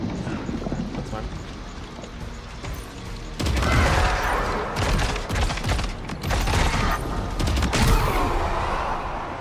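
Grenade launcher fire in Death Stranding 2, a burst of rapid loud blasts and crackling impacts that swells halfway through and keeps rumbling, layered over steady game noise and a talking voice.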